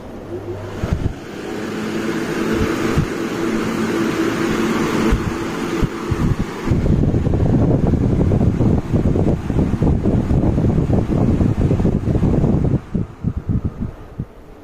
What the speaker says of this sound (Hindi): अभी मैं यहाँ पर टेबल फैन लगा रहा हूँ